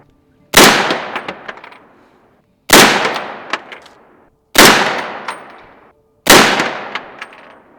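Four loud, sharp rifle shots with supersonic ammunition and no suppressor, each cracking out then ringing down over roughly a second, spaced about two seconds apart at an outdoor range.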